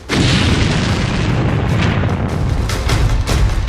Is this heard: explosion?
yes